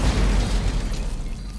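A deep, booming burst erupts as Clint Bowyer starts a fire, loud and close at first, then rumbling and fading away within about a second and a half.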